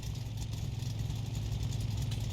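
A car engine, slightly too big for its bay, runs steadily just after starting, a low rumbling idle with dense mid-range roar, constant and close.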